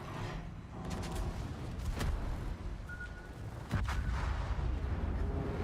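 Gunfire from AI enemies in a multiplayer war video game, with sharp, loud shots and booms breaking out irregularly over a rumbling battlefield background.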